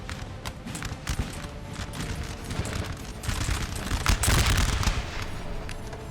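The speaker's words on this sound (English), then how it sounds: "Definitely got more rifles shooting at the French than you have the French shooting at the UK forces here" Massed rifle volleys from infantry units in Napoleon: Total War crackle in dense, overlapping bursts, growing louder and heavier toward the end, with distant booms and no talking.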